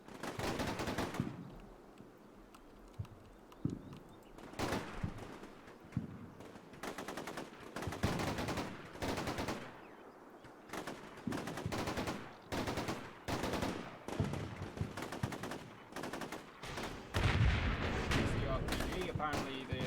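Machine-gun bursts and scattered shots in the Khabour Trail video game, coming in irregular loud volleys of varying length between quieter gaps over about twenty seconds.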